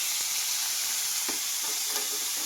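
Pork belly (liempo) frying in a pan of oil, rendering its fat: a steady, loud, dense sizzle and crackle that fills the whole stretch, with a few soft stirring knocks and no voices.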